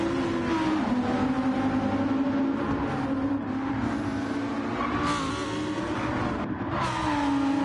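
GT1 race cars, including a Viper, roar around a racing circuit in Brazil in a racing game, engines droning and shifting pitch continuously as cars accelerate and pass close by.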